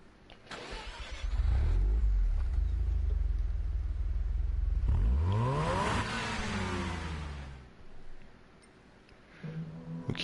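A stock car's engine in GT Sport starts up and revs through a rising, falling whine, loud and close, then settles to a lower idle with a few blips near the end. No talking.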